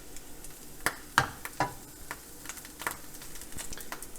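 Carrots reheat in a little butter in a pan, crackling with a faint, scattered sizzle broken by several sharp pops and ticks spread across a few seconds, with no talking.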